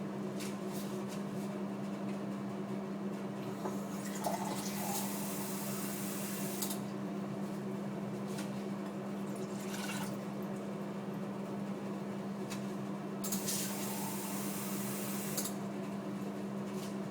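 Tap water runs and splashes into a glass in a kitchen, fetched for making couscous; a soft, steady flow over a constant low hum, with no talking.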